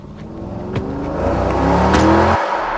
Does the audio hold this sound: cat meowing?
no